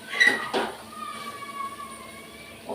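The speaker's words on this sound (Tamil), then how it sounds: "ஒரு கடாயை எடுத்துக்கிறேன்." A metal kadai cooking pan picked up in a home kitchen, two quick clanks of metal followed by a faint ringing scrape, close and fairly quiet.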